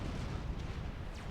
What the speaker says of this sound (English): That was a tactical missile, sorry, not tactical nuke.